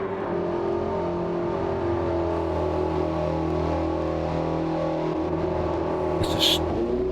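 A Porsche race car in Gran Turismo 7 pulls out of the pits at Spa, its engine holding a loud, steady droning rev with a brief whine near the end, while someone talks over it.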